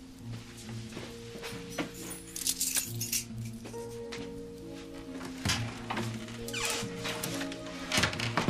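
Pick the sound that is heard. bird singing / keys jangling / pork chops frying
keys jangling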